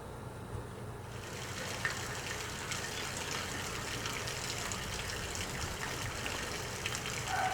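Steady trickle of water running along a sidewalk beside an urban street, a continuous soft wash with no voices.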